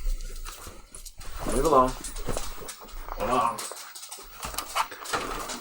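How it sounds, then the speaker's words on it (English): Puppies whimper and pant in short, high, wavering bursts at close range, with someone talking over them between the cries. "Couple puppies. Come on, Chester."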